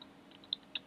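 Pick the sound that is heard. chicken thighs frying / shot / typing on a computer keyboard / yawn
typing on a computer keyboard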